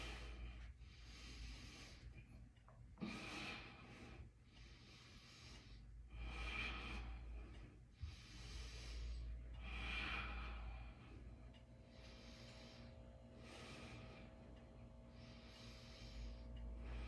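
Slow, steady breaths during a yoga session, a series of soft, airy inhales and exhales repeating at an unhurried rhythm, close and quiet over a low background hum.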